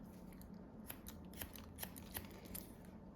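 Scissors snip through hair during an A-line haircut for a woman's short hairstyle, several quiet crisp clicks spaced irregularly over a soft steady background hiss.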